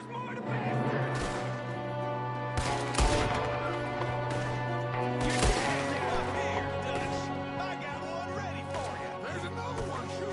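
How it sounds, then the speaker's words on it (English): Gunfire in Red Dead Redemption 2, with several sharp broadband shots cracking out at irregular intervals over a dense bed of music and game ambience, voices shouting in the mix. "There's another one shooting from the window."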